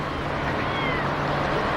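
A starving cat lets out a single drawn-out, wavering meow close by over low background noise.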